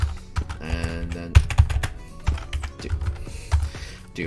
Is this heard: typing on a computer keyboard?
yes